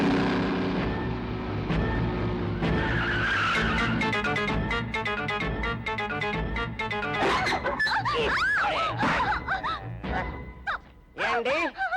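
A car skids and revs as it is driven at someone in a Tamil drama scene, the engine roar and tire noise loud and sustained throughout, with people talking over it and a dramatic music bed.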